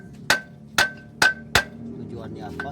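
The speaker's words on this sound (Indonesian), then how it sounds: "Nah pertama-tama kita ambil palu dulu, palu sedang aja ya. Kita ketok dulu di setiap baut ini ya." A medium hammer strikes clutch bolts on an Avanza/Xenia four times in an even rhythm. Each blow is a sharp, close metallic tap with a brief ring, and faint background noise sits between the strikes.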